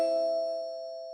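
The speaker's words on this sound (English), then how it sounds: "it's a little warning bell that I've got 5 minutes" A small warning bell gives one clear ding that rings on as a steady, slowly fading tone in an otherwise quiet room.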